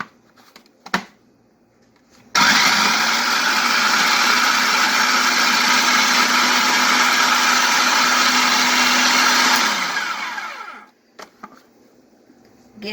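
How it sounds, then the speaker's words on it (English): A kitchen appliance chopping pulled pork: after a couple of faint knocks, a loud motor whirs steadily for about seven seconds, then winds down and stops, followed by a few handling clicks. "Now, I'm going to chop this part up."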